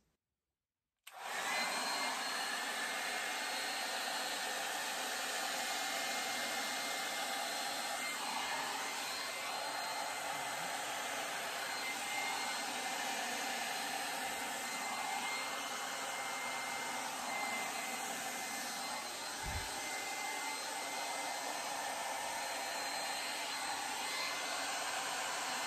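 Constant, loud rushing air from a blower aimed at acrylic pour paint, a steady whooshing hiss running unbroken for the whole stretch after an abrupt start, with a single faint knock partway through.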